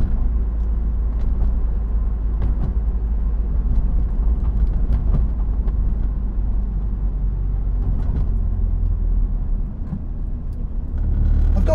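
A convertible with its roof up drives steadily along, a loud, continuous low engine and road rumble heard from inside the cabin with no breaks.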